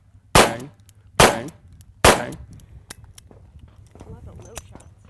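Pistol shots ring out at a junior shooting training camp: three sharp, loud reports spaced under a second apart, followed by quieter clicks and handling noise with faint talk in the background.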